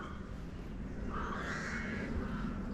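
A crow caws outdoors on a city walk in Ploiesti, Romania, a single rough call of moderate loudness heard over steady street and wind noise.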